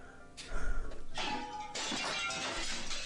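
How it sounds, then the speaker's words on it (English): Crockery plates shatter and smash in Hatoful Boyfriend, a burst of breaking followed by a second, longer crash with scattering shards, at moderate volume and without speech. "And the smashing of plates."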